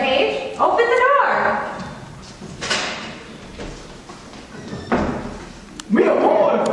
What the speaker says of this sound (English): Open the door.